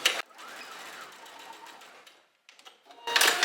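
Domestic sewing machine stitching fabric toward a folded edge in beginner top construction, running in a steady continuous whir that slows and pauses briefly before a loud closing burst of stitching, with no talking.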